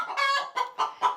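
Hens squawk and cluck loudly inside a chicken coop, a quick series of four harsh, close calls in rapid succession.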